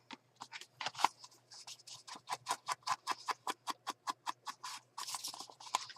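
An ink applicator rubs Distress ink around the edges of paper in a steady series of about twenty rhythmic, close scrubbing strokes, crisp and papery, with no talking.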